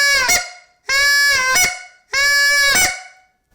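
Three loud, drawn-out honks blown on a goose call, each one breaking over the reed into a sharp upper crack, evenly spaced and close with nothing else heard.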